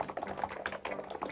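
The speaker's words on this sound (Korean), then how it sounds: "앱코 무접점 버전 2 같은 경우에는 타이핑을 했을 때 좀 통울림이라고 해야 될까요?" Rapid keystrokes on an ABKO V2 contactless (electrostatic capacitive) keyboard on a steel desk, each press carrying a hollow, ringing case resonance; steady close-up clacking with no talk.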